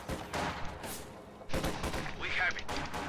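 Bursts of gunfire crackle in the World War II strategy game Company of Heroes 2 as Soviet conscripts advance, with several loud volleys mixed under a commentator's voice and game unit callouts.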